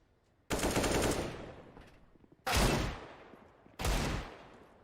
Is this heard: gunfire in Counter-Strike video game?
yes